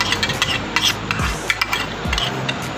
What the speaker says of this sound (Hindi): तो आपने इसको अच्छे तरीके से मिक्स कर लेना।